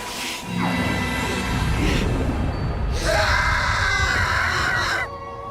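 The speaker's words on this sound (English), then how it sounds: "That is a good scream, by the way." A character's loud, drawn-out scream in the video game Trails through Daybreak II, made of two long wailing bursts over game music and effects, the second one higher and more strained.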